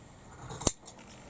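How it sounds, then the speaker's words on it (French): A single crisp snip of scissors trimming the edge of a sewn fabric band for a small beret, sharp and close, with a faint rustle of cloth after it and no talking. "je vais couper un petit peu le bord pour que ça soit régulier"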